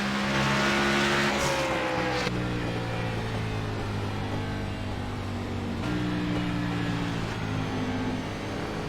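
Race cars on track in the iRacing video game at the virtual Milwaukee Mile: several engines drone loud and close, their pitch bending down through the corner, with a steady roar and no voices.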